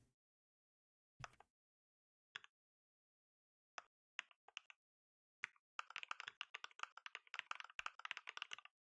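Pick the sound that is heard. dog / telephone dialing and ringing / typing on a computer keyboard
typing on a computer keyboard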